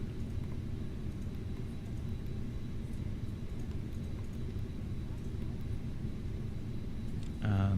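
In Microsoft Flight Simulator, an FBW A320neo sits on a short runway as a steady low engine rumble builds, then surges to takeoff thrust in the final moment. Speech is faint or absent.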